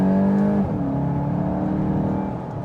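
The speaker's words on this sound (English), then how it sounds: "I like the noise of the engine" A 2024 VW Golf GTI SE engine pulls under acceleration with a steady, moderately loud hum whose pitch shifts as a gear change comes through, heard from inside the car.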